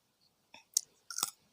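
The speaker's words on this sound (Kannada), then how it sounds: "ಸೊ ಇವಾಗ ಅಮ್ಮ ನನಗೆ ಕೊಟ್ಟಿದ್ದಾರೆ ಕುಕುಂಬರ್. ಸೊ ಇವಾಗ ಬೇಗ ನಾವು ತಿನ್ನೋಣ" Someone bites into crunchy cucumber, producing three or four short, close crisp crunches separated by quiet pauses.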